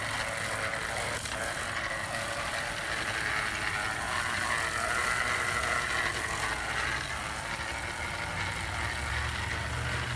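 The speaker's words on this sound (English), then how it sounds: "And then I turn this crank and it's going to broadcast the seed." Hand-crank broadcast spreader scattering grass seed over a lawn, giving a continuous close whirring, ratcheting crank noise with a faint pattering hiss of seed, steady throughout.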